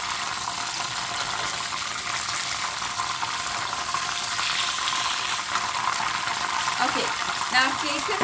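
Hot oil hisses and sizzles steadily in a pan after fish fillets have been fried, a continuous close bubbling crackle with faint clinks near the end.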